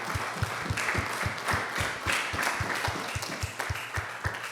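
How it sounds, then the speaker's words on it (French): A church congregation claps for Jesus in a steady, rhythmic beat, roughly two claps per second, loud and sustained, with a faint murmur of voices underneath. "clap for Jesus?"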